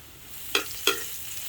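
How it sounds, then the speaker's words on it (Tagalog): A spatula stirs peppercorns sautéing in a pan while cooking outdoors on a farm, giving two brief scraping, sizzling strokes against a low steady frying hiss, close and fairly quiet. "Ilagay ang paminta at halu-haluin"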